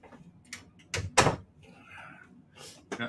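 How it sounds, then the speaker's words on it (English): A door is shut in a room during a live evening show, landing as a sharp, fairly loud thud after a few lighter knocks and rattles, with faint murmuring around it. "Let me shut this door."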